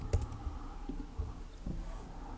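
Computer keyboard typing, a handful of distinct clicky keystrokes at an uneven pace, close and clear with no talk.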